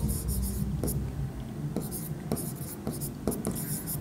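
A pen scratches across paper in short strokes and taps while writing accounting entries, close and fairly soft, running under a man's quiet speech in Bengali.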